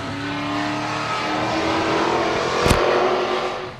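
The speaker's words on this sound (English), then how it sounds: "It's going to be wide open, full throttle racing at the Full Throttle Speedway." Race cars roar at full throttle around a 3/8-mile high-banked oval at Full Throttle Speedway, a loud, sustained engine drone that swells as a car passes close by.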